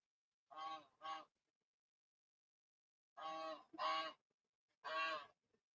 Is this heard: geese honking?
yes